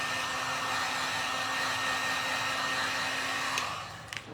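A hair dryer blows steadily and loudly at close range, drying a painted plastic soda-bottle butterfly, its whoosh holding constant before easing off near the end with a couple of faint clicks.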